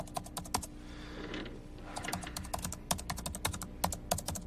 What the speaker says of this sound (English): even the keyboard clicks line up with the timing of him actually pressing the keys